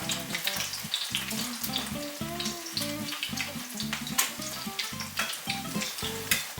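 Reibekuchen, grated potato pancakes, frying in a very hot pan, with a steady dense sizzle and crackle throughout. A louder rhythmic pulsing runs beneath, likely stirring or kitchen movement, and no one speaks.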